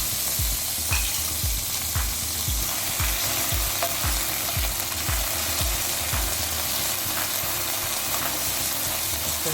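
Cubes frying in hot oil over a high flame, a dense, loud, continuous sizzle with repeated low bubbling pops and no voices.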